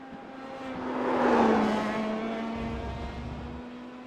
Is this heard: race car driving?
yes